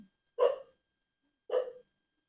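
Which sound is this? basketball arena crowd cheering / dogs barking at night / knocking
dogs barking at night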